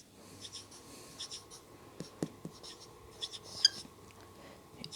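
Pen or marker writing out a math equation on a surface, with soft scratchy strokes and light taps in irregular bursts, close and quiet over faint background noise.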